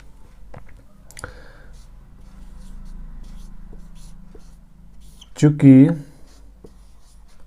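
A pen writes on paper during a class 10 maths lesson, making soft, continuous scratching strokes with a few light taps, and a brief spoken word follows near the end.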